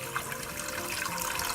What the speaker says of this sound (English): Now we can put lots of water now.